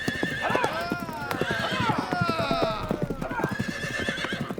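Horse hooves clip-clop in a quick, steady rhythm close by, punctuated by several loud neighs and whinnies, all under a voice talking throughout.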